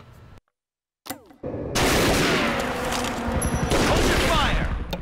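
Sustained gunfire from Tomb Raider: Legend, a dense loud volley of rapid shots filling the last three seconds after a brief silence and a few scattered bursts, with a voice shouting over it.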